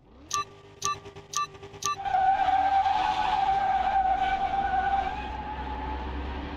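A 1969 LS Hot Rod in Car Mechanic Simulator 2021: four short start-light beeps, then a loud steady engine roar with tire squeal as the car launches and races away.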